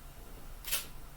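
A single camera shutter fires once, a sharp crisp click that stands out clearly against a quiet, faint room background.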